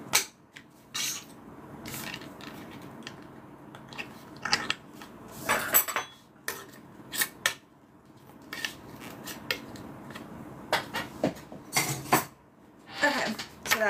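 A butter knife and other metal cutlery are handled on a sewing work table, making sharp, close clinks and clatters in irregular bursts over a quiet background, with no talk over them.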